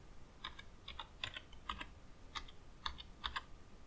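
Keys clatter on a computer keyboard in short irregular bursts of clicks, typing a program name into a search box on a Linux Mint desktop, close and crisp with no voices.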